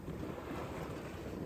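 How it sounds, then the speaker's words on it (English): Sails on a sailboat offshore flap in weak wind, a continuous rushing, fluttering noise blended with wind buffeting the microphone and water sounds, steady and fairly close. "And now the sails are flippity floppity."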